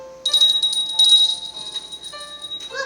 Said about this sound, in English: every time the bell rings, an angel gets his wings